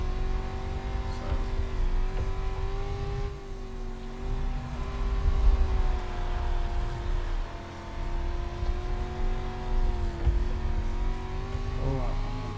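A rookie street stock race car engine drones steadily through a sim-racing lap at Darlington, its tone rising and falling with throttle and shifts, heard under intermittent talk from a player.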